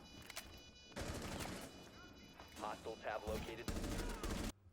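Rainbow Six Siege gunfire rattles in rapid automatic bursts with sharp single cracks between, dense and loud through most of the stretch, with a voice speaking underneath.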